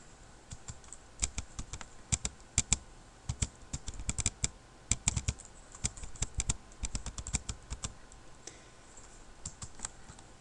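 Rapid, irregular keystrokes on a computer keyboard while HTML markup is entered, with clustered clicks and brief pauses, close and fairly quiet, with no talking.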